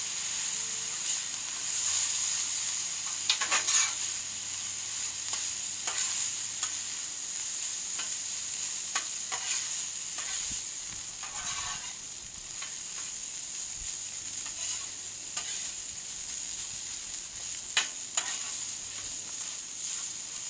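Shrimp fried rice with soy sauce sizzles steadily in a hot pan at a BBQ cook, with occasional scraping and tossing clatters over a constant hiss and no talking.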